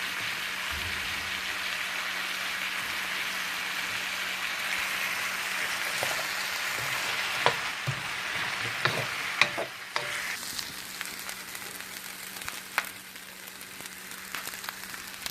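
Rice sizzles and fries in a pan with butter for house special fried rice, a steady crackling hiss with occasional louder stirring clatters and scrapes, close and alone without talk.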